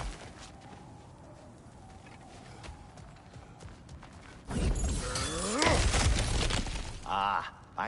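Smashing through breakable objects in God of War Ragnarok: a quiet stretch gives way to loud crashing and shattering bursts of debris, with chirpy ambient game sounds and a brief voice near the end.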